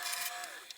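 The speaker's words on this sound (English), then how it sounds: "So here I am on the lathe with my gouge, just simply rounding that blank" Walnut blank being rounded on a wood lathe with a gouge, giving a steady bright hissing cut that pitches down briefly near the end.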